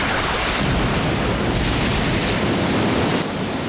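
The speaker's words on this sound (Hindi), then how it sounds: "ये तो बहुत बड़ी हवा का झोंका है जो दिखने में पानी जैसा लग रहा है" A huge watery gust unleashed by the Beyblade White Cetus Grand Maelstrom attack, a dense roaring rush of wind and surf that stays loud and steady throughout, with no voices.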